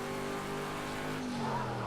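A racing car engine in a video game holds a steady, loud drone with sustained harmonic tones that shift slightly in pitch as it accelerates, continuous and alone.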